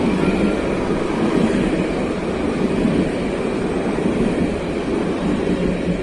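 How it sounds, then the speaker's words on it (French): A Jerusalem tram arrives from the Old City, its steady loud rumble and rail noise holding close and even for the whole stretch, with no voices. "voilà le tramway qui arrive de la vieille ville"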